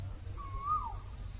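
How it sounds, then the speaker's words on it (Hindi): A single smooth, wavering call, like an Asian koel heard from shade trees near fields, rises out of a steady hiss and faint low rumble, moderately distant and alone without speech. "इनका कोयल बोल रही है"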